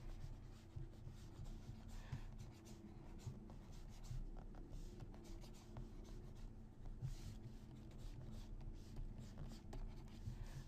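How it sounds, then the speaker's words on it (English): Pencil sketching a character figure on paper: continuous soft scratching and rubbing strokes, steady and close, with no talking over a low background hum. "just gonna sketch in a character real quick and get the proportions down"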